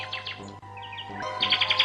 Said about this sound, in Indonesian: Burung itu namanya Kinara.